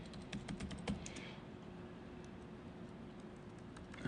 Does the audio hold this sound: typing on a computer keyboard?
yes